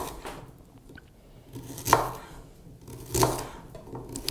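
A knife chops white carrots in a colonial kitchen, giving a few sharp separate thuds against a board spaced about a second apart, close and fairly quiet, with no talk.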